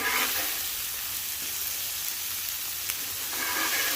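Ground beef burgers sizzle on a flat top griddle, a steady close hiss of frying fat that runs throughout with a few faint pops and scrapes, and no voices.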